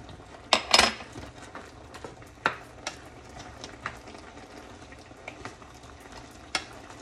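Shrimp heads drop into a cooking pot and get stirred, giving sharp clinks and scrapes of a utensil against the pot over a faint sizzle, with scattered quieter knocks following.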